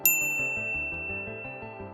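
A single bright notification bell dings once at close range, its clear metallic tone ringing out and fading slowly over about two seconds while a soft backing melody continues beneath.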